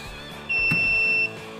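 Alarm on a pneumatic hot stamping foil press with double heaters, a single steady high-pitched electronic beep lasting under a second, close and moderately loud over a low background rumble.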